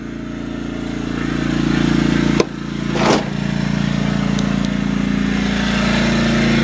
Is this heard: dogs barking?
no